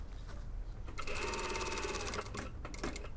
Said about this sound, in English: we're sewing along that hem